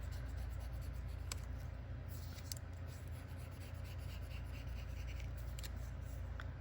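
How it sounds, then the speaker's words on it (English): An embossing tool with a wide tip scratches vein lines onto paper gerbera daisy leaves, a faint steady scraping with a few brief sharper strokes over low background hum. "I'm going to draw a line down, and then I draw lines towards that center line."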